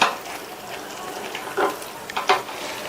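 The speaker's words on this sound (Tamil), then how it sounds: "உருளைக்கிழங்கு சேர்த்துட்டு நல்லா மிக்ஸ் பண்ணி விட்டுட்டு" Fried potatoes are stirred into a simmering curd mixture in a pan, giving a few brief scraping, squelching strokes over a soft, steady sizzle.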